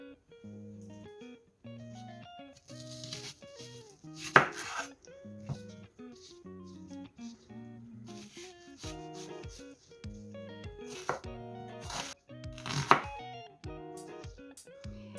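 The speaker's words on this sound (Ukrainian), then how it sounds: "Накришимо цибульку." A knife chops an onion steadily on a cutting board in quick bursts of rapid taps, close and fairly loud, with occasional heavier knocks and pauses between runs.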